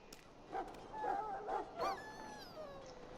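A dog in a pen in the video game Dragon Age Origins gives a few soft whimpering yips and low whines, moderately close, over a quiet game background with a faint musical tone.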